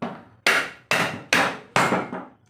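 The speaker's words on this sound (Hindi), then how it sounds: "हम क्या करेंगे, एक दो हथौड़े और बजाएंगे" Four sharp, evenly spaced hammer blows ring out against the motor of an 18-inch exhaust fan to loosen it, each strike loud and close with a quick decaying ring.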